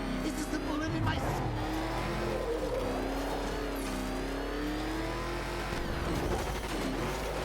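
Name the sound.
car driving in the video game Batman: Arkham Knight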